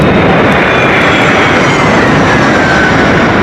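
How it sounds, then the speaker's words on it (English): A GE90-115B jet engine on a 747 flying testbed makes a loud, continuous broadband roar with a steady whine above it, constant in level and heard close up with no voices. "GE90-115B engine."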